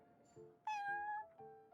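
A cat named Prince meows in Genshin Impact, one bright, drawn-out meow that begins sharply and holds steady. Softer game tones sit beneath it and keep sounding afterward.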